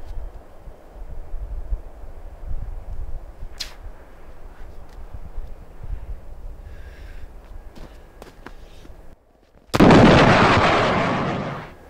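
A soda can is shot and bursts at close range with a loud sudden blast followed by a hissing, fizzing spray that slowly fades, after several seconds of quiet outdoor background with faint footsteps.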